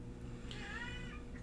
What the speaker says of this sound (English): Kat's wanting to chime in now too. The cat's into Dune also.